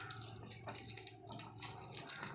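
A chocolate bar with its wrapper stripped off is dipped into a container of water during a home buoyancy experiment, giving a steady, close watery swishing and dripping throughout.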